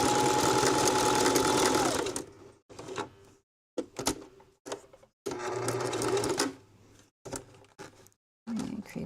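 A home sewing machine stitches in loud, steady bursts of motor whir and needle clatter, stopping and restarting several times with short quiet pauses between runs.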